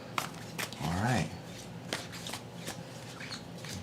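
Tarot cards being shuffled by hand, a run of soft papery riffles and flicks close by, with a voice talking briefly in the middle.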